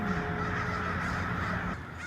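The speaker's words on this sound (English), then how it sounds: "Crows suddenly bolted out of the sky as they swoop into downtown Sunnyvale, California." A flock of crows over downtown Sunnyvale, California fills the air with dense, continuous cawing in a steady outdoor wash of noise, loud and without any talk.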